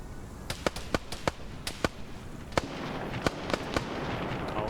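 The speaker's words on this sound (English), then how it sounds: "The gunshots are making them freak out" Gunfire in a video game PvP match, with sharp single shots and quick bursts cracking at irregular intervals over a low background rumble, some close and loud, others fainter.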